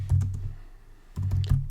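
Typing on a computer keyboard while entering text along a path in Adobe Illustrator CC: quick clusters of close, crisp key clicks, a short pause, then another burst of keystrokes.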